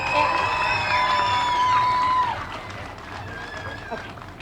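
Crowd cheering and clapping for a young pageant court member at a small-town Little Miss pageant, a loud burst of cheers and whoops that fades after a couple of seconds into lighter applause.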